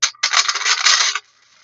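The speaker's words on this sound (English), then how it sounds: "I think it's a great little old-fashioned card shuffler." Old-fashioned card shuffler operated in a short burst, a bright whirring riffle of cards lasting about a second after a brief first flick, close and fairly loud, then stopping abruptly.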